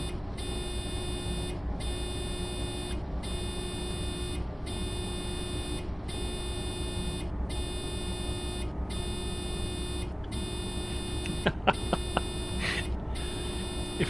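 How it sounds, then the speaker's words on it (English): A steady electrical buzz drones in a train cab in Train Sim World 3, on the Kassel to Würzburg line, pulsing in regular on-off bursts over a continuous low rumble, with a few sharp clicks near the end. "you're all going to be hearing this buzzing in your ears for at least the next hour afterwards"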